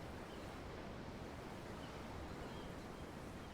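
Ocean waves in the video game Tales of Arise, a steady broadband wash of surf without pauses, moderately close and continuous throughout, with no voices.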